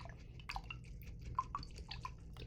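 A paintbrush is rinsed in a water cup while acrylic painting, giving faint, scattered drips and soft splashes in an irregular rhythm against a quiet background.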